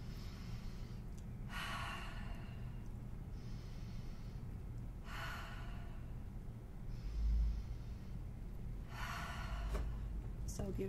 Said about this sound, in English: 3 deep inhales.